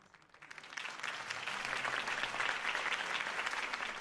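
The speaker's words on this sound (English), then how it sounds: "If only Mr. Wayne, my campaign's largest backer, could have heard that applause" In the video game Batman: Arkham Origins, a crowd bursts into loud, sustained applause that swells within the first second and continues steadily.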